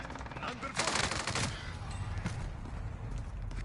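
Automatic gunfire from Cold War weapons in Call of Duty: Warzone, with a loud burst of rapid shots early on that trails into scattered fainter shots.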